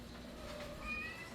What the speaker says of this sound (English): This cat is driving me batty. She wants to dig my plants.